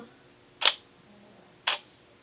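An SLR camera fires a one-second exposure: a sharp shutter-and-mirror click, then about a second of quiet, then a second click as the mirror returns, both close and crisp in a quiet room.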